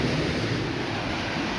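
Beach water washing ashore through a small canal on the west coast of Barbados near Holetown, a steady, broad rushing wash that continues evenly throughout with no breaks.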